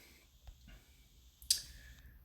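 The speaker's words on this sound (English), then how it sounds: "So I'm going to go ahead here and just click log in." A computer mouse clicks a few times in a quiet room, the sharpest click coming about two-thirds of the way through, all faint and close.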